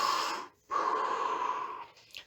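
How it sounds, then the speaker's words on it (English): Deep breaths drawn and pushed out through the mouth, two long airy breaths separated by a short pause, close and fairly soft, with no talking. "you can take 5 to 10 like breaths, deep breaths"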